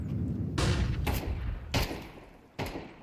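AK rifle shots ring out in Counter-Strike at a pro esports match, four sharp, loud single cracks spaced irregularly about half a second to a second apart, each with a short decaying tail over low background rumble.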